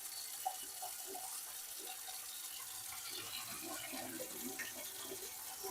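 Water runs steadily from a kitchen tap in an apartment, a soft continuous hissing stream with faint splashing, quiet and uninterrupted throughout.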